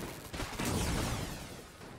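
Trash cannon fire in Enter the Gungeon, a dense, loud burst of blasts filling a short moment with no talk.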